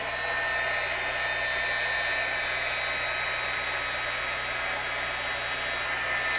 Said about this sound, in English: And while I have my heat tool out,